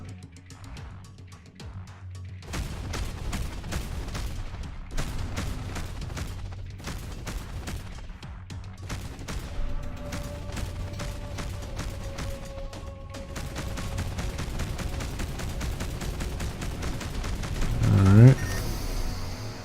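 A nuclear missile launched in the space game Between the Stars, set amid dense rapid weapon fire: sharp repeated bursts and booms across the whole stretch, building toward a louder surge near the end, with a brief spoken word early on.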